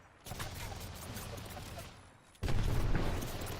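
Gunfire in an Apex Legends competitive match, a dense run of shots continuing at moderate level, then a louder, heavier burst of firing breaking in partway through.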